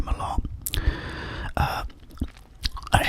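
Close, crunchy chewing and biting of a Big Mac Bacon burger, wet mouth sounds in irregular bursts with soft breaths between, recorded intimately in an ASMR setting.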